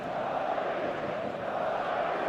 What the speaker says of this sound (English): The noise is just about reaching a crescendo here as these two sides get ready to lock horns.